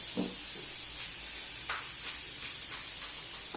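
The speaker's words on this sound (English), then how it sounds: "So we're gonna cook our steak." Steak cooks in a hot pan with a soft, continuous hiss and sizzle, broken by a few faint crackles and pops, fairly quiet and with no one talking.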